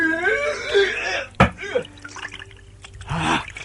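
A radio-drama effect of rippling water on the Sugalu river: soft drips and light liquid trickles beneath a speaking voice.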